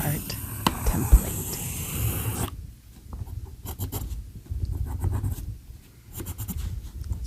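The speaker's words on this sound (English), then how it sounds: "I'm going to take my circles and I will draw a birth chart template" Pen or pencil scratching across paper while drawing circles for an astrology birth chart template, close and soft with steady strokes, first heavier then lighter with brief pauses, quiet murmured talk at times.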